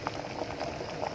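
Malunggay soup broth bubbles at a steady rolling boil in an uncovered pot, a dense continuous gurgle and pop of liquid with no talking.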